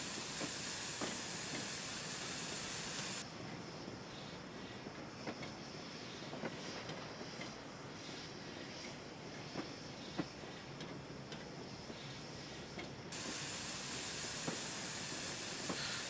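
Steam locomotive Tornado 60163 in a train simulator on the West Highland Line, a continuous steam hiss with faint rail clicks. A brighter, fuller hiss opens and closes the stretch around a quieter middle section.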